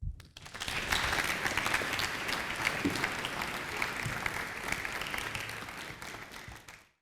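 An evening audience at a science talk applauds a speaker being welcomed to the stage, steady clapping swelling quickly and then fading out after several seconds.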